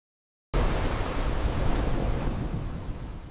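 Steady rain in an AI-generated scene, a broad, dense hiss that starts abruptly after a short silence and holds at constant strength, then eases slightly toward the end, with no voices.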